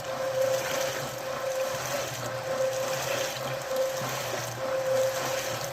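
Small concrete mixer drum turning with a batch of wet concrete inside, a steady mechanical hum with a sloshing, churning wash that swells and eases in slow cycles, alone with no talking.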